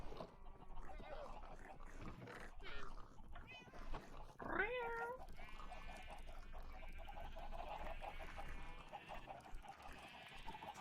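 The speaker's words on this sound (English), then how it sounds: "Oh, whose cat is this?" A cat in the Minecraft video game gives one clear, rising meow partway through, heard amid game noise and a player talking.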